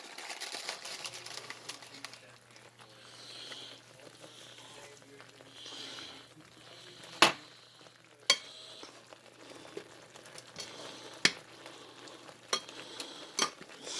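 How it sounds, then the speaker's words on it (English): Butter chicken sauce simmers quietly in a pan with fenugreek leaves, a soft bubbling hiss broken by a few sharp clicks and taps. "See it simmering."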